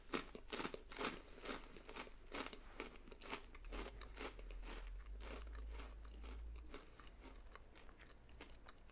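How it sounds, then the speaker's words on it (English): Close, crisp crunching of crunchy cheddar cheese whisps being chewed, a rapid series of bright bites and crackles repeating steadily, with a low rumble swelling in the middle. "I'm pretty sure I'll edit out some of my chewing for the cheddar cheese"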